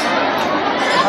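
A dense crowd of worshippers murmurs and chatters at a temple on Maha Shivratri, a loud, close wash of overlapping voices.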